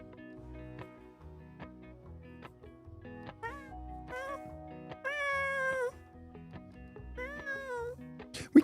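Hydra the cat meows repeatedly at close range, with several drawn-out, pitch-bending cries over a quiet, music-like harmonic background, a faint voice briefly present.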